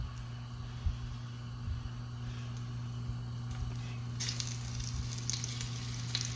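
Beef browns in bacon grease in a pan, a steady quiet sizzle over a low electric hum, growing brighter and crackling more in the last couple of seconds.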